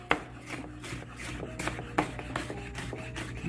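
A kitchen knife chopping onions and peppers on a cutting board, giving a few sharp, irregular taps over low room noise, with no talking.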